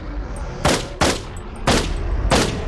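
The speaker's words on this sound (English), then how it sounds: "You do lose some of your accuracy when you're shooting," Loud bursts of gunfire from the video game Pop Some Eyes, a wave shooter against Beholder-like enemies: four sharp, evenly spaced shots with short decaying tails over a low background hum.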